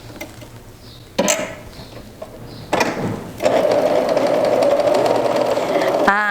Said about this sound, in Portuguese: A máquina Brilance ela tem um barulho